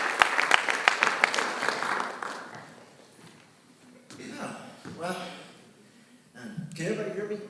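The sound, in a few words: audience applause welcoming a teacher at ceremony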